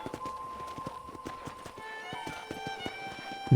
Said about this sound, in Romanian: Ce cai frumoși!